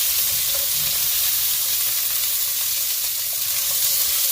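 Pork cutlets for a maple rosemary glaze fry in a pan with a steady, bright sizzle and crackle, continuous and close throughout.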